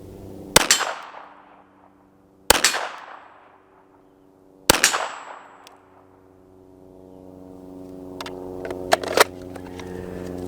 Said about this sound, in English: good stable position, 35 yards, I've got to take that precision shot